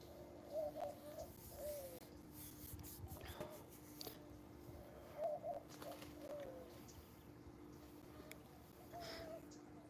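Pigeons or doves coo in repeated soft phrases outdoors on a morning, with light bird chirps scattered around and faint talk in the background.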